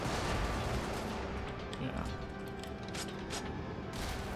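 Rapid bursts of gunfire and explosive impacts from combat in the video game Brigador, dense and steady, with faint talking underneath.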